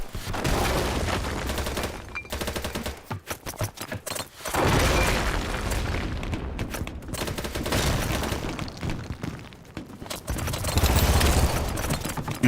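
C4 and claymore explosions in a shooter video game, heard as a dense, loud barrage of booming blasts and gunfire-like bursts running continuously with brief dips.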